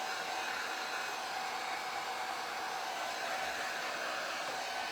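A hair dryer blows on its cold setting, a steady, loud, close airy roar that holds unchanged throughout with no voices.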